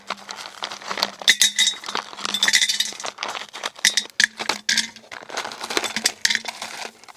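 Ice cubes tumble into a glass for iced tea, a dense run of clinks and rattles that comes in several bursts, close by and fairly loud, with no voice.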